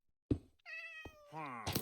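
A cat meows in the Minecraft video game, a few short harmonic cries close together following a dull thunk. Nobody talks over them.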